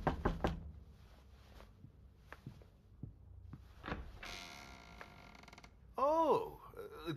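Knocking on a door in the horror game Evidence 111, several sharp raps spaced out over the first few seconds, followed by a creaking mechanical sound and a short burst of distorted noise near the end.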